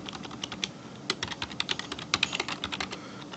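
Steady fast typing on a computer keyboard while entering data into Excel, a close run of crisp clicks with a few louder key strikes and no talking.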